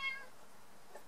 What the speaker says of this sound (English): oh, we have my little chatterbox kitty behind me